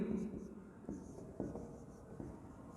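Pen or pencil writing out a word on paper, a few short scratchy strokes and taps at close range, quiet, with faint talk in the background.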